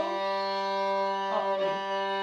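A single sustained down-bow note on a violin's open G string, steady and clear with rich even harmonics, played alone in a quiet room.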